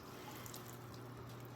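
Water trickling steadily for soaking orchid roots, a faint continuous running flow with no pauses.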